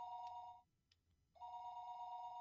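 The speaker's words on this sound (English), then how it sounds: "The phone suddenly rang." A telephone rings in the Higurashi When They Cry video game, two steady electronic ring bursts split by a short gap, clear and alone.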